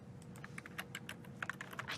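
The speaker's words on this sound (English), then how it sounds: "I keep typing my last name as the message that I want to send" Quiet, rapid typing on a computer keyboard, a steady patter of light key clicks with small irregular bursts, fairly close and alone without any talk.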